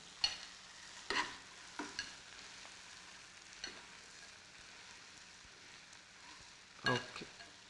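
Puffed rice being stirred into a frying tomato mixture in a pan for uggani, with several scraping stir strokes over a soft sizzle, moderately close.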